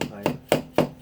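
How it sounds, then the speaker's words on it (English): Four sharp, evenly spaced taps as an old oil pipe is knocked down into its seat on a 1997 Suzuki Katana 600 motorcycle, each a close, hard knock with a short ring, heard alone. "Just tapping it down, making sure it's seated good."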